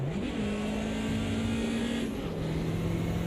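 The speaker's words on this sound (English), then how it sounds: "It doesn't sound the strongest of engines, does it? This has kind of got that rattle to it." A BMW 2002 turbo in the AMS2 racing game holds a steady, droning engine note with a slightly rattly, strained edge and one small pitch step, loud and continuous throughout.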